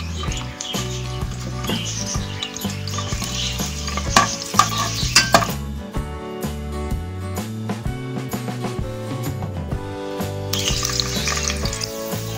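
Garlic sizzling in about four spoonfuls of hot oil in a pan with stirring scrapes, a steady loud frying hiss close up.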